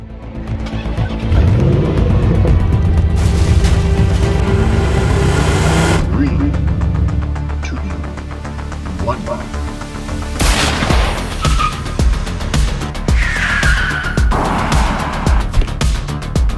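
A small RC car races a Mahindra XUV700 outdoors, with loud continuous engine and motor noise that surges and fades, sharp bangs and whines mixed in, and voices talking over it.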